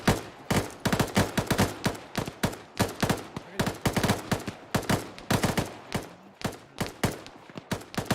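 Heavy exchange of gunfire in the video game Arma, sharp shots and quick bursts cracking repeatedly at close range for several seconds, alone without talk.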